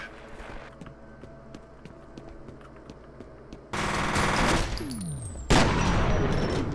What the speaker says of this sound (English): This shotgun is horrific